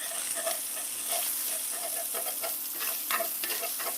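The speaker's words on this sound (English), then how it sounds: "Don't burn your bacon." Bacon frying in a pan, sizzling loudly and close with a continuous bright hiss, broken by frequent small pops and crackles scattered through the grease.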